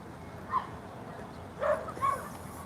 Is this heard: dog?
yes